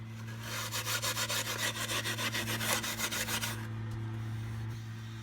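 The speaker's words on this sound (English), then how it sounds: "What I will do is hit it with some steel wool just to take off the splinters." Steel wool rubs rhythmically over the wooden body of a Padron cigar box guitar being distressed, a fast run of close scratchy back-and-forth strokes over a steady low hum, then stopping.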